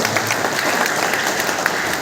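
A church congregation at a festival day honoring teachers applauds loudly and steadily, dense clapping filling the space without a break.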